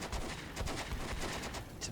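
Rapid bursts of gunfire crackle in a World War II tactical battle between French and German troops in Combat Mission Beyond Overlord, a dense run of sharp shots and machine-gun rattle at moderate volume, with no talking.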